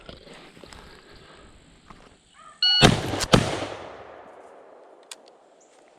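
Two sharp rifle shots from a .348 loaded with 165 grain FTX bullets fire in rapid succession, loud and close, each with a long echoing decay across open ground.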